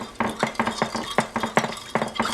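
A utensil stirs and mixes marinade ingredients, vegetable oil among them, in a bowl: rapid, rhythmic clinks and scrapes close by, steady and fairly loud, with no voices.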